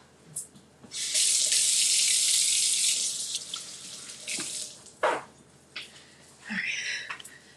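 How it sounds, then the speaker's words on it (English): Kitchen tap water runs steadily into a sink for a few seconds while hands are washed, then cuts off and is followed by brief splashes and a short second burst of flow. "so I'm going to wash my hands."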